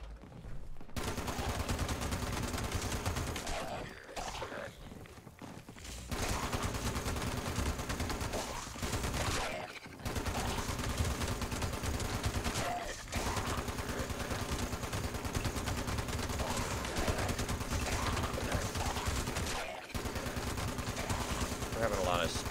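A .50 cal machine gun in the video game Fallout 76 firing long continuous bursts of rapid shots, with brief pauses between strings, loud and steady throughout.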